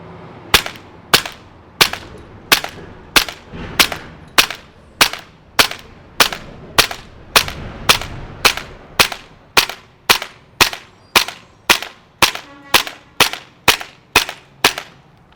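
ASG CZ Shadow 2 gas blowback airsoft pistol firing 0.25 gram BBs at a range target, about twenty-five sharp, snappy cracks at a steady pace of roughly one to two per second, each crack followed by a short metallic clack, close and loud.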